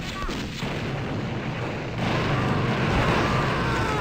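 Dynamite sticks exploding in the video game Blood, a dense barrage of loud booming blasts that rumble and overlap continuously, swelling louder toward the end.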